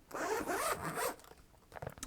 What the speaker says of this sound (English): Zipper feels nice and smooth, so I really can't complain about that at all.